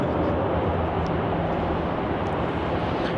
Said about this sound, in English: Landing now, we have a Qantas Link flight QF 2050 heading in from Devonport, Tasmania. Another Dash 8 Q300.